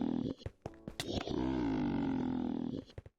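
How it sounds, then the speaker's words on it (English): Wandering Trader from a Minecraft mod lets out a loud, sustained animal-like roar with a lion-style growling quality, following a few short grunts, heard alone and up close in a video game. "every time he hits you, he makes a victory roar"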